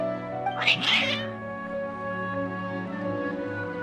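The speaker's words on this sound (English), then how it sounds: "Your cats seem pretty worked up." Several cats meowing agitatedly in the Genshin Impact video game, a brief cluster of close, loud cries near the start, then game background tones continuing underneath without further calls.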